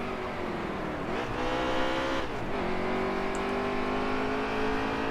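Several stock cars in the NASCAR Heat 3 racing game drone together at high revs, their steady engine harmonics swelling and dipping as the car tries to slip underneath Almirola's Stewart-Haas car in a pack; loud and continuous, with no talk.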